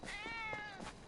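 A calico kitty in a video game meows in one long, drawn-out, close and clear cry, with no talk over it.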